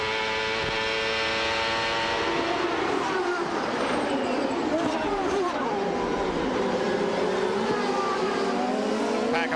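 CART Indy race cars at the 1995 Toronto race roar past with loud, steady engine drone that shifts in pitch as they pass, while a commentator talks over them.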